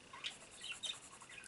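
Ruby, a pet bird, lets out a few faint, high chirps scattered across the moment, thin and close against a soft background hiss.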